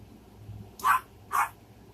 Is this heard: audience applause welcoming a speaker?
no